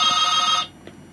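Telephone ringing: a single bright, buzzy electronic ring burst sounds loudly and close for just over half a second, then cuts off, leaving near silence.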